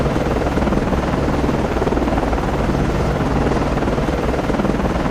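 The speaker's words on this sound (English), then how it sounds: "Con, Flyco, launching aircraft." Helicopter lifting off from the deck of destroyer DDG 79 in the submarine-warfare game Cold Waters, a steady, dense whirring rotor drone with pulsing low thrum, constant and loud throughout, no voices.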